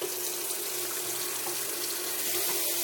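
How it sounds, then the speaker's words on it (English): Water runs steadily from a faucet into a sink, a continuous loud hiss of flow with no pauses and no talking. "turn on your water"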